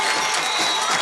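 A home crowd at a high school football game cheers and shouts in a short, loud, steady burst of noise.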